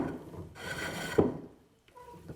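Steel chisel paring a wood surface with its bevel riding, a rough rubbing rasp lasting about a second, then a brief sharp knock and quieter scraping.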